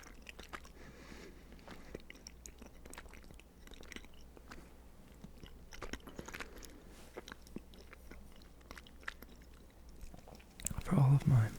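Soft close-up chewing of XL Shaq gummies, a chewy candy, with wet squishy bites and sticky mouth sounds repeating irregularly in a quiet room, ending in a louder burst of handling noise.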